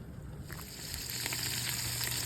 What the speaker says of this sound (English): So it fries in an iron skillet, just like bacon